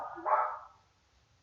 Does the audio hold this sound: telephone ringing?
no